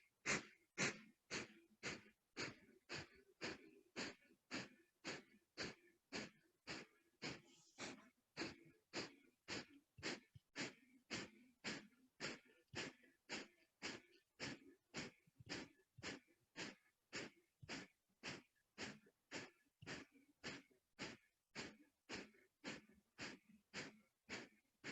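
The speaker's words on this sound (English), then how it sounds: "Option to stick your tongue out and pant if you don't know how to do breath of fire" Breath of fire in a kundalini yoga session: sharp, forceful nasal exhalations, close and even, repeating in a fast, unbroken rhythm of roughly one and a half per second.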